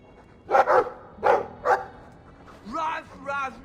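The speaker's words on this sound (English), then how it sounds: "I like the doggy." A dog in Dragon Age 2 gives several short barks close up, then a pair of whimpering yips, with a voice talking over the game sounds.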